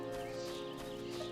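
Horse hooves clip-clopping in the video game Final Fantasy XIV, a steady rhythmic trot under a droning game music bed, brief and evenly loud.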